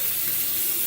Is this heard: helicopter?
no